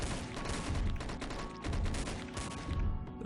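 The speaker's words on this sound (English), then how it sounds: "This is my machine gun" Rapid machine gun fire from a weapon in the zombie game Dead Ahead: Zombie Warfare, dense steady bursts running throughout with a few crashes, loud and close, with no talking.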